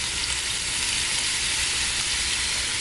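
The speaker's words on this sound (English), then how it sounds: "So you can see the garlic is cooking up" Minced garlic frying in hot oil with curry seasoning, a dense continuous loud sizzle and hiss that holds steady for a few seconds, with no talking.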